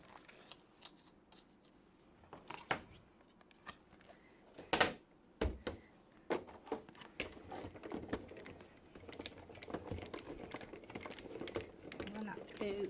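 A manual die-cutting machine cranks a baby-grow paper die through and back, producing quiet clicks, rolling crunches and scattered knocks of paper and plates, with soft speech at moments.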